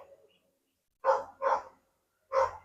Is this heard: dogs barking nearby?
yes